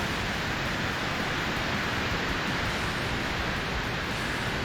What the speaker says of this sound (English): that is actually just how loud the waterfalls in this stage are